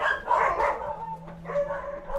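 A dog gives a short burst of barks and yips that is close and fairly loud, and the sound wavers into a whimpering tone.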